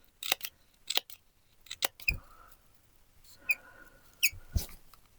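Squeaky scissors snip crepe paper for a drumstick-style paper flower, giving a handful of sharp, close cuts with high squeals and chirps in an uneven rhythm, nothing else heard.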